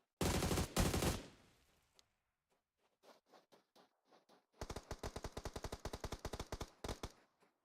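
Heavy gunfire from the SK12 shotgun in a video game: a dense burst of loud blasts up front, then a quieter patch of scattered shots, then a long rapid string of sharp reports near the end.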